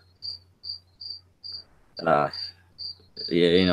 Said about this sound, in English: Just keep hearing this cricket it's chirping.